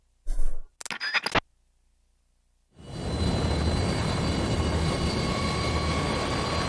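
Sustained airplane engine drone from Metal Gear Solid 3: Snake Eater, a steady broad roar with faint tonal whine that starts abruptly and holds at close, even loudness, preceded by a few short scraping and clattering noises.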